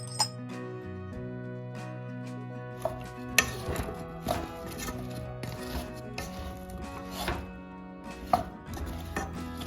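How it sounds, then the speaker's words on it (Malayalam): Knife chopping washed potatoes on a cutting board, a steady run of close, crisp thuds with occasional clinks of glass or dishes and a low kitchen hum underneath. "ആദ്യം തന്നെ പൊട്ടറ്റോ വാഷ് ചെയ്ത് കട്ട് ചെയ്തെടുക്കാം."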